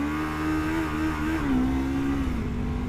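Lexmoto LXR380 motorcycle engine revving with the clutch pulled in, a steady close droning note that rises and dips slightly in pitch, loud and continuous with no talking.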